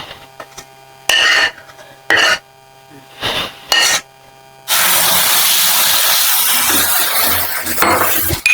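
Cashew nuts fry in hot oil in a pan while semolina polilu are being made, a loud continuous sizzling hiss taking over after several shorter bursts of sizzle with quieter gaps between.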